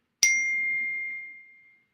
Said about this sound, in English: Got notifications going off left and right.